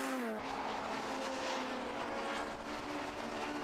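Class B race car lapping the 1.2 mile Brands Hatch Indy circuit, a loud sustained high-revving engine whine with a rising pitch, heard close and steady with no talk.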